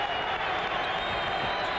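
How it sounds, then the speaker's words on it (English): Arena crowd at a 1985 NBA basketball game, Portland Trail Blazers at Dallas Mavericks, a steady, broad roar of cheering spectators that fills the whole moment. "Crowd coming alive here as the Trailblazers bring it down"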